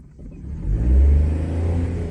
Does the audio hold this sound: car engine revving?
yes